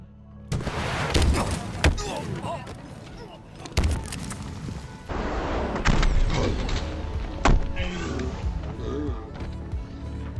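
Gunfire and heavy impacts rattle through an online multiplayer match of Halo Infinite as an enemy player shoots. Several sharp, loud bursts and thumps fall at irregular intervals over a busy game soundscape, and no one speaks.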